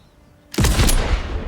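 A sudden loud burst of gunshots in a cutscene from the Mafia Definitive Edition video game, striking after a quiet moment and ringing out for about a second.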